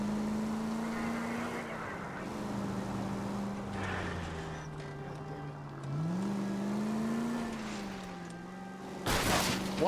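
A car driving in the game L.A. Noire, its engine droning steadily and rising and falling in pitch as it accelerates, with a sharp burst of noise near the end.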